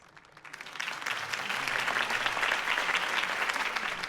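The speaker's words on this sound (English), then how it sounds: "could have heard that applause" A crowd at a campaign speech in the Batman Telltale game bursts into applause, swelling quickly from a faint start into full, sustained clapping that stays loud to the end.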